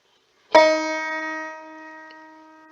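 A single banjo note picked on the first string at the first fret rings out clearly and close, with a bright sharp attack and a sustained, slowly fading tone.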